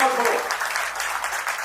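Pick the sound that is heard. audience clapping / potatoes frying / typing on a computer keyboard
audience clapping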